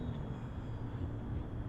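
A radio-controlled model airplane in flight makes a faint, steady droning buzz from some distance, unbroken and with no talk over it.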